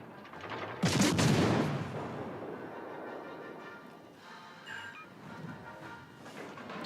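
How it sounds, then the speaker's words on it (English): Naval gunfire in World of Warships: Legends, firing high-explosive shells at a destroyer: one loud heavy boom near the start, then a long rumbling decay and fainter distant reports, with no talking. "So because I'm shooting at a destroyer here"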